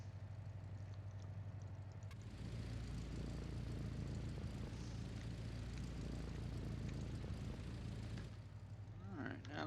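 Airplane engines drone in the naval war game Victory at Sea Pacific, a low steady propeller roar that swells partway through and holds, mixed with faint battle noise.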